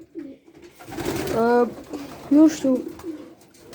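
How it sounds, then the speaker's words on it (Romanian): Pigeons coo softly nearby in a few low, throaty rolling calls, heard alongside a person speaking briefly. "Și na, aici sunt porumbeii."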